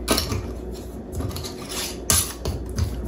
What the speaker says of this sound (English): You'll put a lid on it.